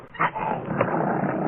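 Blackie, an elevator operator's dog in a radio drama, gives a couple of short close barks and growls, then a lower rumbling whine continues. No one speaks over it.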